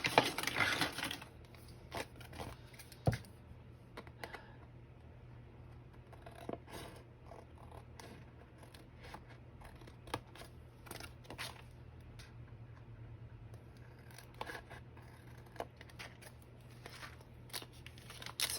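Scissors snipping through an old 3-ring binder, a series of sparse crisp cuts and crunches scattered over a quiet steady background hum, close and moderately loud.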